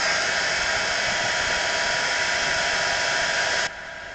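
Hair dryer blowing steadily on wet paint for gel-plate printing, a loud, constant close airy roar that drops to a lower setting just before the end.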